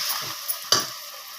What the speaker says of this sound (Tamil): இப்போ வந்து தக்காளி பழத்தை போடுறேன்.